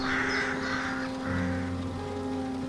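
A raven caws loudly three times in succession, harsh and close, over a steady low tonal drone. Nobody speaks.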